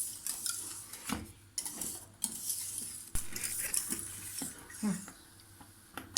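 A spoon stirring a creamy cake mixture in a pot over low heat, faint close scrapes and light metallic clinks at irregular intervals with a soft background hiss.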